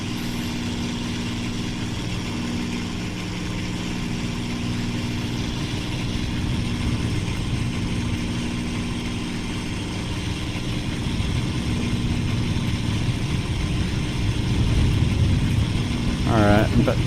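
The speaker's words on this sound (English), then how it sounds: "my engines are warm, but they're not hot yet." Aircraft engines drone steadily in the flight game Aces of Thunder, a continuous mid-low hum that builds slightly toward the end, with a voice talking over it.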